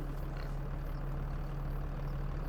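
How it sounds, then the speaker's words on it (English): A tractor engine idles steadily in Farming Simulator 25, a constant low, even drone with a faint hum and no other sounds on top. "Its tractor is running."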